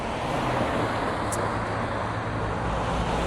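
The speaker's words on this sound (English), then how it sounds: "some traffic noise here. Hopefully it's not too bad." Steady roadway traffic rumbles close by, a continuous broadband wash of passing vehicles with no breaks and no voices over it.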